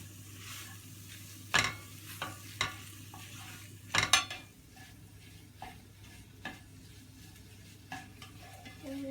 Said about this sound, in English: We're going to melt down the cream cheese.